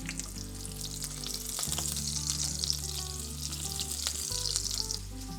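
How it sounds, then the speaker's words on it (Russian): Buckwheat patties fry in vegetable oil in a pan, giving a steady close sizzle with crackling pops and a low hum underneath throughout. "Обжарим гречаники на сковороде по 2-3 минуты с каждой стороны."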